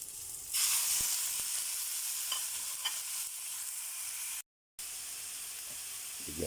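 Meat sizzles loudly in butter in a hot pan for Filipino home cooking, a steady close-up frying hiss that swells and then holds, with a few soft stirring clicks and a brief dropout.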